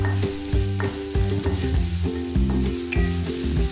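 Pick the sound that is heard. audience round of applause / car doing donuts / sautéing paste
sautéing paste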